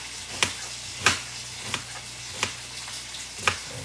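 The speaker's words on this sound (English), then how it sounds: "I'm just going to continue to slice it" A knife slices through an onion-like vegetable on a cutting board, six sharp knocks at a slow, regular pace, close and crisp over a quiet kitchen background, no speech.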